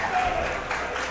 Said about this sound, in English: There's the Texas crowd popping off for Elsa as she achieves victory and places into top 8 for tomorrow.